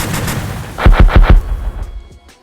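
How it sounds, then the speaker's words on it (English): A 4-inch cannon in the Minecraft Movecraft game fires four quick, heavy booming shots in a tight rhythm, loud and close, then the sound fades into quieter rumbling. "This right here is a 4-inch cannon."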